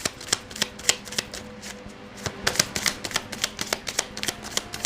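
Tarot cards being shuffled and drawn by hand: a rapid, close, crisp series of papery flicks and riffles, irregular in rhythm and steady in level, with no talking over them.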